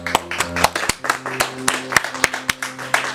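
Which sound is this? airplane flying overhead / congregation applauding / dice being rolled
congregation applauding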